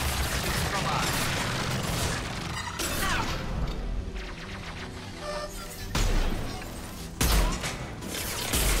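Sustained gunfire and heavy impacts in the Mass Effect 2 video game, a dense continuous firefight with booming hits and crashes that drop out briefly near three and seven seconds, mixed with in-game voices.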